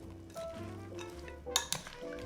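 Rum-soaked dried fruit stirred in a bowl for homemade fruitcake, a short soft scraping swirl with a couple of bright utensil clinks against the bowl near the end, close and fairly quiet.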